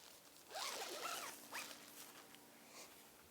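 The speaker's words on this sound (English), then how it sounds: "it's a good idea to zip everything closed" The zipper on a Big Agnes Copper Spur HV UL2 backpacking tent is pulled closed in a few quick, close zips with short pauses between, fairly quiet and with no talk.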